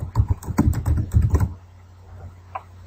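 Fast bursts of clicking keystrokes on a computer keyboard run for about a second and a half, then stop, leaving a quiet hum and one faint later tap.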